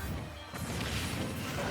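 An explosive flame attack in Super Smash Bros. Ultimate lands as a sudden crashing smash, a single sharp impact with a whooshing burst followed by a roaring, fading tail over busy game noise.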